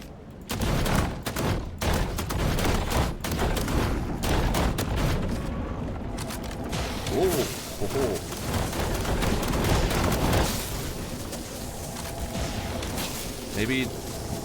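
Rapid gunfire from shooting at a ship in the video game The Last Caretaker, dense bursts of shots and booms running almost continuously at a loud level, with someone talking over parts of it.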